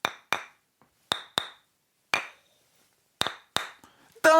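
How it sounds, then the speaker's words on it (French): A judge's gavel strikes about eight sharp, hard knocks at an irregular pace, each one a crisp isolated crack in a quiet room, and a voice breaks in at the very end. "Je suis là pour faire triompher le marteau de la justice."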